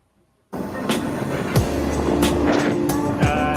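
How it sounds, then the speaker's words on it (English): Heavy road traffic at rush hour: vehicles roll past close by in a loud, continuous roar, with several distinct passes swelling and fading over the steady engine and tyre noise. "Kind of heavy traffic"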